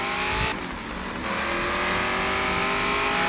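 A car drives along a clean city road in the video game Gangstar Vegas, its engine droning loud and steady with rising revs and a brief dip partway through.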